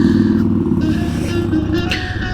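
Motorcycle setting off on a long road trip from Sydney to Canberra, steady loud engine drone with gentle rises in revs, close and continuous with no talk.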